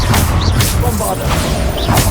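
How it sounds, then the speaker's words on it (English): Bombarda explosion spell in Hogwarts Legacy on PS5, with several loud booming bursts and swooshes at a steady pace, close and dense, mixed with game effects and voices. "Bombarder."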